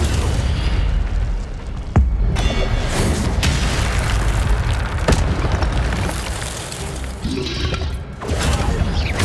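The Incendio fire spell in Hogwarts Legacy erupts in loud booming bursts over a dense, continuous roar of game effects, with sharp blasts near the start and the middle.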